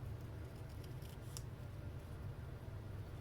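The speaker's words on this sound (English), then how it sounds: "I'm just going to fussy cut around the envelope here" Scissors snip around a paper envelope in a quiet craft session, a couple of faint short cuts over a low steady hum.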